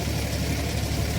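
Tractor engine running steadily out in open farm fields near a village, a continuous low idling rumble with even vibration, no voices, faint but constant throughout.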